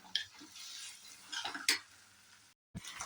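Dishes, pots and utensils being washed in a home kitchen give a few faint scattered clinks and clatters, quiet and close, with no talking.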